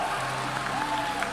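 Crowd at an ESL Melbourne esports semi-final applauding the winning team Bad News Eagles, a steady wash of clapping and cheering spread through a large venue, moderately loud and sustained without pause.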